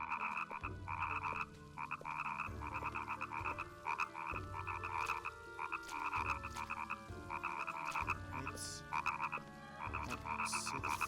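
In Oogie's Revenge, a frog croaks again and again in repeated rhythmic bursts over a steady background of game music and ambience. The croaking comes through fairly loud and carries on for the whole stretch, with no talking over it.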